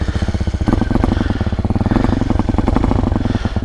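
An Amazon X-Pro dirt bike engine, cold, running just after starting up with a loud, close, rapid pulsing putter that stays fairly even.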